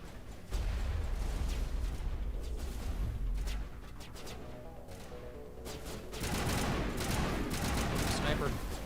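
Sniper rifle shots and combat in the video game Mass Effect 1, a dense run of sharp bursts and gunfire crackle over a rumbling game soundtrack, loud and continuous with a heavier barrage near the end.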